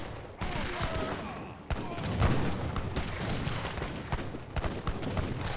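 Musket volleys crackle through an Age of Empires 3 battle, with cavalry and sharpshooters firing: repeated sharp shots and ragged bursts layered over a constant din of fighting, some reports close and loud, others thinner and farther back.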